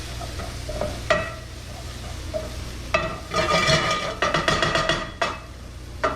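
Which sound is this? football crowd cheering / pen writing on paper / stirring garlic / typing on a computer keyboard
stirring garlic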